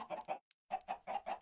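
Chickens cluck in a modded Minecraft desert world, a quick run of short clucks, a brief pause, then another burst, close and clear with no talking.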